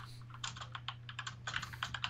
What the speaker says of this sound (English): Ken's typing away over there.